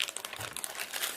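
Plastic packaging around a Prodot keyboard crinkles and rustles close by in quick, irregular bursts during unboxing, with no voices.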